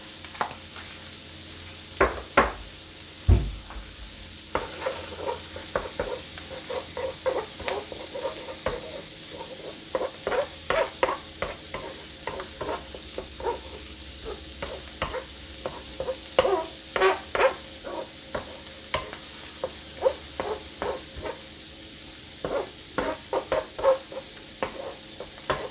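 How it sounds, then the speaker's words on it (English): Eggs for shrimp fried rice sizzle steadily in a hot pan while a utensil stirs and scrapes them in frequent irregular clacks, close and clear over a constant frying hiss. "it's not necessary to fry the eggs until they're brown and dark and not very tasty looking"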